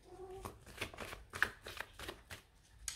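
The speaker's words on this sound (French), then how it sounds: "je vais quand même remettre une carte" A tarot card is drawn from the deck and laid down, making soft, close papery flicks and slides in a loose irregular rhythm, faint and alone.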